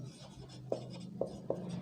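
A teacher writing an example on a board, soft scratchy strokes with three sharp taps of chalk or marker spaced through a short, quiet stretch and no speech.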